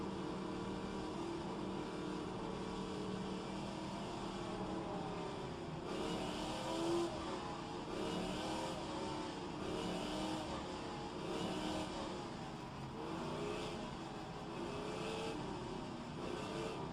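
Race car engines droning steadily through the first lap at Bathurst in a Trans Am racing video game, a continuous loud hum with slight rises and falls in pitch as the cars accelerate, with no voices over it.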